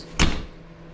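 A single solid shut of a Can-Am Maverick Sport side-by-side enclosure door, a short close thud with a brief rattle-free decay, alone against quiet background.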